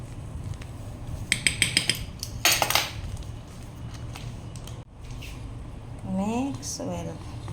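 Flour and baking powder are stirred in a bowl at home for apple bread, with a spoon scraping and clinking against the bowl in quick bursts, while a person talks in the background.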